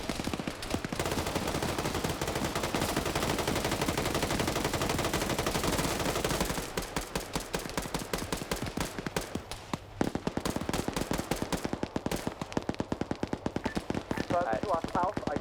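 Heavy automatic gunfire in a military shooter game firefight near a southern border wall, a dense roar of overlapping shots giving way to rapid rhythmic bursts, loud and close.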